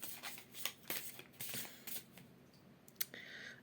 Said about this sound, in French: On va prendre une carte avec l'oracle du chemin intérieur